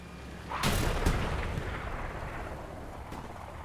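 Heavy tank cannon fire in Hell Let Loose, a Panzer IV round glancing off a Sherman's front armor: a loud, sharp boom near the start with a second blast just after, a rolling rumble decaying through the rest, and a fainter report near the end.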